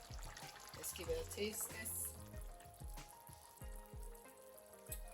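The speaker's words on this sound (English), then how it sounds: "Our potatoes over here, they are being cooked." Potatoes cooking in a pan give a steady sizzle and frying hiss, with occasional stirring clatter and a voice talking over it.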